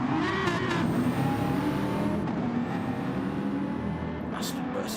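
Aston and BMW GT3 race cars in a racing video game league final at Spa, engines droning steadily under continuous commentary, pitch sliding as they run downhill.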